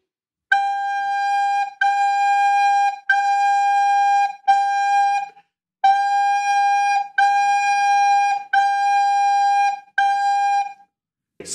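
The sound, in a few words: G note played on a soprano recorder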